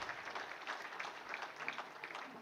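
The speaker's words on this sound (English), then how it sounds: "So clap your hands for our dear friend Sasha Muminovic, Slow Crowd Business Club President." An audience at a tourism conference applauds steadily and fairly loudly, a dense wash of many hands clapping throughout.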